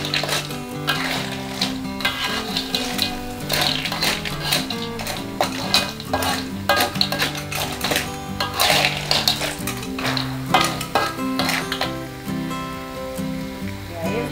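River snails in oyster sauce are stirred in a pan, giving repeated irregular metallic scrapes and clinks of a utensil against the pan over a steady tonal background, with no talking.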